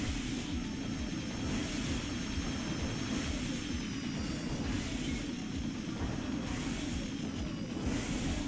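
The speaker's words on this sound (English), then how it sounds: "but the planes are annoying" Enemy planes drone overhead in the video game Armored Core 2, a steady low engine roar with a whining upper layer that swells and fades slightly, continuous with no talking.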